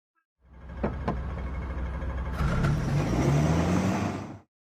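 A car drives past close by, its engine rising in pitch as it accelerates, a smooth vroom that swells and then cuts off abruptly.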